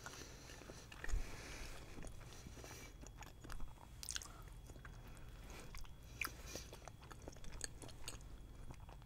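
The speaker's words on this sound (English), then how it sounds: "I just do an ASMR of just eating salmon" Someone chews salmon sushi close up in an eating show, with quiet, wet, squishy bites and smacks coming in irregular bursts over a faint background.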